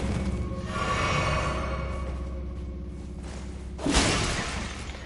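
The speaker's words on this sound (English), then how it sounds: "A lot of smashing pots in this game just for fun because it doesn't do shit." A pot smashing in Elden Ring: one sharp shattering crack near the end over a continuous game soundscape of low rumble and ambient tones, moderately loud.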